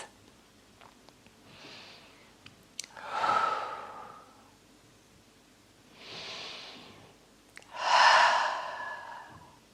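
Two slow, deep breaths drawn in and let out during a calm yin yoga session for back pain, each a soft airy inhale followed by a longer sighing exhale, close and clear with quiet pauses between.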